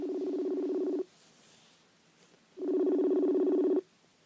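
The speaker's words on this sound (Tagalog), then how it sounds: "Babe, kanina pa nagre-ring tong cellphone mo." A cellphone rings in two long buzzing bursts, each about a second long, separated by a quiet pause, sounding close and clear with no one talking over it.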